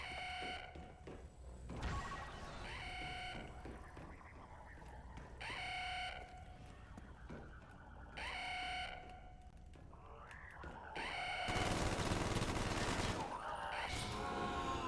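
Video game gunfire comes in bursts of rapid shots mixed with alarm-like electronic tones, growing louder and denser toward the end, with no speech over it.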